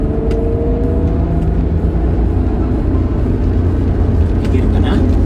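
A 1991 Honda NSX with about 7,500 miles accelerates on a Los Angeles road, its engine droning steadily as it revs toward 8,000 rpm beneath constant cabin noise, with people talking over it.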